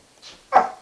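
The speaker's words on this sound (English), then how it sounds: "You can hear my little dogs. They love to look outside the window and bark at the cow" A small dog gives a short, sharp bark indoors, preceded by a faint higher yip, a single brief outburst from little dogs barking at a cow outside a window.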